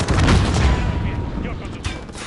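Gunfire in the video game Warzone 2: a loud burst of booming shots and rattling fire, dense at first and then thinning out, with voices mixed in.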